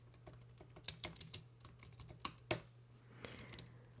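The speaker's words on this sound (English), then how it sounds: "I'm just going to type some text underneath with instructions." Fingers typing on a computer keyboard, soft irregular key taps in short bursts, close and quiet over a faint low hum.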